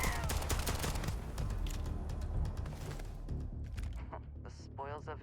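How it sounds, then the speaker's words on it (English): Rapid gunfire in the Starfield video game, a dense burst of loud overlapping shots that thins out toward the end as a voice speaks briefly. "Where are we shooting?"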